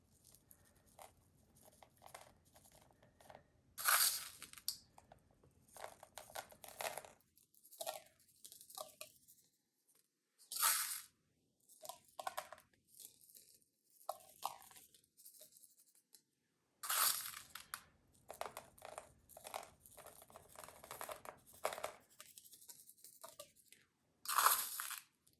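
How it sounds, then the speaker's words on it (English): Crushed glass spooned onto a teal canvas in several short, crunchy gritty bursts, close and moderately loud, separated by near-silent pauses. "I'm just going to spoon in my crushed glass"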